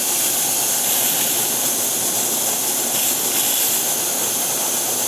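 An MSR Whisperlite liquid-fuel camping stove burns with a steady, loud, close roaring hiss that holds unbroken throughout, with no voices over it.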